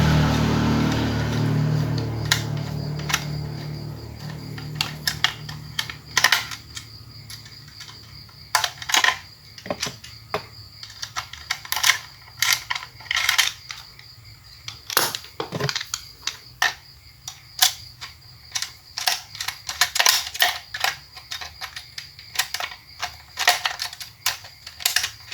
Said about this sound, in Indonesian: sebelum mengangkat kita lepaskan juga ya baut yang berada di tengah ini ya